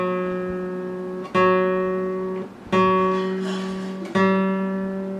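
Guitar G string plucked four times while being tuned up from F sharp, each ringing note sustaining and decaying as the pitch slides gradually upward, close and clear with no talking.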